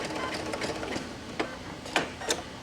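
A home sewing machine stitches fabric for a Kimberbell quilting project, a soft steady mechanical whirr with a few sharp clicks and knocks as the needle is stopped and the work repositioned.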